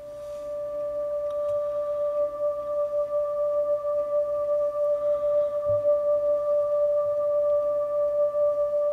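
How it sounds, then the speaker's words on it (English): An EBow sustains a D note on the B string of an acoustic guitar, producing a pure, unbroken singing tone with a faint vocal quality, steady and close for several seconds with slight swelling in loudness. "I used the EBow on, I believe I used the B string, but I played a D and then turned it on and did this."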